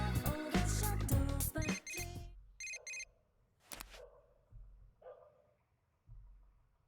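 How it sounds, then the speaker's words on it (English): A short electronic chime sounds in the video game Persona 4 Golden, following the end of a loud musical passage, then a few brief beeping tones spaced apart over a quiet background, with no talk. "You receive a text message."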